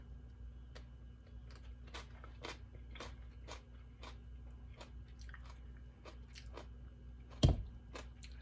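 Crisp bites and crunchy chewing of homemade sauerkraut in a taste test, a steady run of close, quiet crunches in a hushed room, ending with a louder sharp click.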